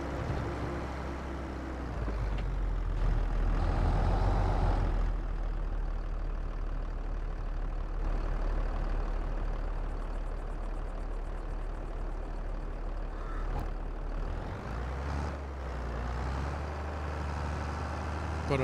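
A tractor engine runs steadily in Farming Simulator 22, a continuous low idling rumble with a brief swell early on, close and loud throughout the whole stretch, with no talking over it.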